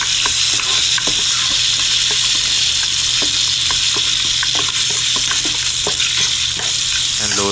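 Chopped onions and garlic sauté in a hot pan, a loud continuous sizzle with repeated scraping clicks of a stirring utensil throughout.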